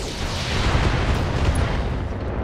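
Weapons fire and an explosion in the BattleTech video game: a dense, loud booming blast that rumbles steadily for a couple of seconds, with no talking.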